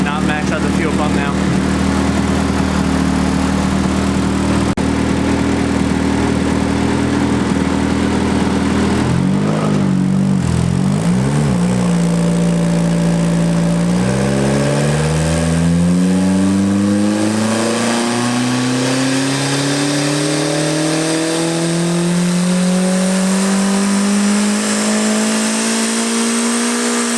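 Turbocharged budget Mazda Miata engine on a dyno, idling rough and blipping, then a long wide-open pull with the rising note sweeping steadily upward, loud and near, with some talk early on.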